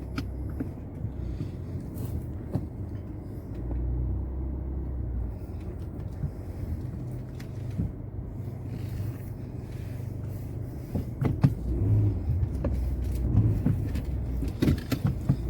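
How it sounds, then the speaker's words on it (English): A car on the road heard from inside the cabin gives a continuous low engine and road rumble with occasional small knocks and no talking. "Today, man, we just driving to work."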